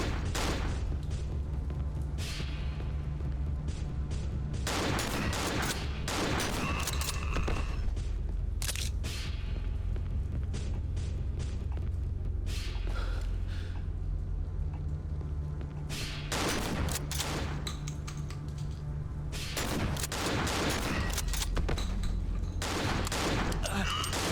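Zombies fire guns in the horror video game Cry of Fear, with loud bursts of gunshots and volleys at irregular intervals across a steady background, plus quieter gaps between the shooting.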